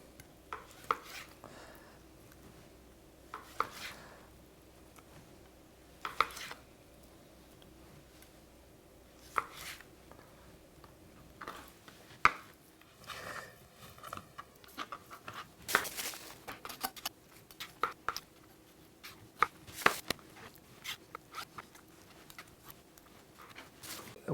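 A knife cuts raw chicken into chunky nugget pieces about a centimetre thick on a board, giving sparse, irregular soft chops and taps at close range over quiet kitchen background.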